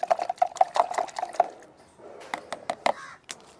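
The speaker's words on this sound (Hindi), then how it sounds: "इसे अच्छी तरह से हमने इसमें डाल दिया 1 लीटर पानी में, और इसे हम आराम से घोट लेंगे" A mixture being stirred by hand into one litre of water in a container, giving quick repeated liquid sloshes and clinks close by, with a pause and a few scattered splashes afterward.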